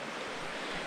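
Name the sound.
King River flowing at Sandy Flat camping area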